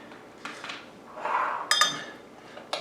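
A spoon scrapes and clinks against a dish while scooping puree for shrimp tartare crostini, a few sharp metallic taps and a soft scraping swell, close and quiet between them.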